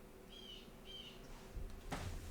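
A small bird in or near a house gives two quick, high chirps close together, faint against a room hum, followed by a dull thump nearby.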